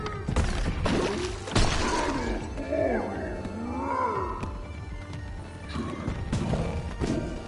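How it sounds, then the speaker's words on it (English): A creature in the video game Bugsnax smashes something, a loud crash and thud followed by roaring, growling game creature cries and shifting effects, fairly close and busy throughout. "he smashed up the thing"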